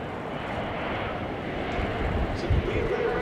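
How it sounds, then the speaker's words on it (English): German Air Force Airbus A400M Atlas in a flying display at RIAT, its rear open in simulated drop condition, a steady distant propeller drone that swells slightly louder toward the end. "Now the aircraft being brought back in simulated drop condition."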